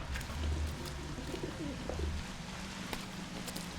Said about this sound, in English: Dear Lord, I didn't see all these pigeons in here before.